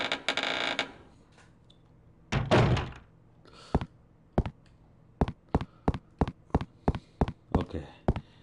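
Heavy door thuds in Resident Evil Code Veronica: a couple of longer rumbling bangs, then a steady run of about a dozen evenly spaced dull knocks, loud and close with no talk.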